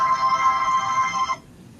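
A phone ringtone sounds during a live on-air broadcast, a steady bright electronic tone that plays loud and alone for about a second and a half before cutting off abruptly.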